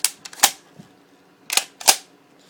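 A UTG M87 spring-powered airsoft shotgun is worked by hand, giving two pairs of sharp plastic clacks from the pump action being racked back and forth, close and crisp with a short pause between the pairs.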